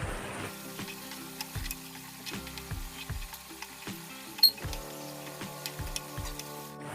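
Sugar syrup simmers with grated carrots in a pan while making carrot halwa, a soft close bubbling and sizzle with rhythmic popping ticks repeating steadily throughout, no voices.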